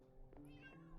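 Minecraft cats meowing softly in a game world, a couple of short quiet mews close together against faint background game ambience.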